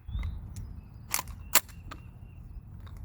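A small gun fires a couple of sharp, close cracks, the louder pop coming near the end and an earlier one just before, each standing alone against a quiet outdoor background with no talking.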